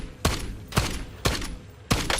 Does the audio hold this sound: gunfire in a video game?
yes